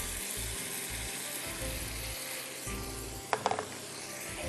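Chicken cooking in a pan sizzles and fries steadily as a homemade blended sauce goes in, with a few sharp clinks of a utensil against the pan partway through, close and moderately loud.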